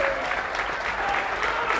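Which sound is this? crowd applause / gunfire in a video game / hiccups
crowd applause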